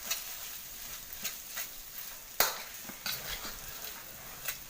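Spice mix caramelising in a wok, a quiet steady sizzle broken by scraping stirs and a few sharp clinks of a utensil against the metal.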